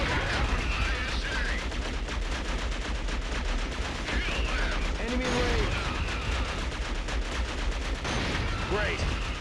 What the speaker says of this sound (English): Why does this gun have such a rhythmic firing pattern?